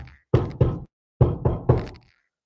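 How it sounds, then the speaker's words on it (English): A woodpecker knocking on wood nearby: two loud, hollow knocks, a short pause, then three more at an even pace, with clear silence around each group. "What is this woodpecker doing over here?"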